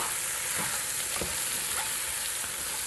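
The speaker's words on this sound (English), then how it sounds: "I'm going to stir this all up, really let these mushrooms and onions cook way down." Mushrooms and onions fry in butter with a steady, close hiss and crackle, while a spoon scrapes and stirs through the pan in a few soft, rhythmic strokes.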